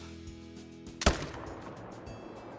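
A single sharp hunting rifle shot fired at a buck in Call of the Wild, a loud crack standing alone over a quiet outdoor ambience and decaying briefly after.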